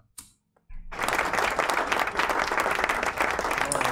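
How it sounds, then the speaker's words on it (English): After a brief quiet start with a couple of small noises, an audience at an anniversary show breaks into steady, lively clapping that holds at full strength to the end. "Dave, can we get some clapping, please?"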